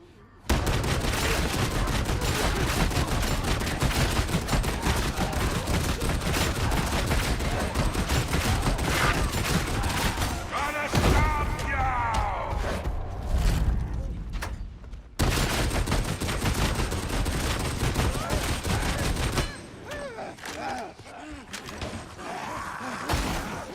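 Rapid, relentless automatic fire from a Ripper gun in a video game horde mode, dense and loud with only brief breaks, mixed with grunts and game effects.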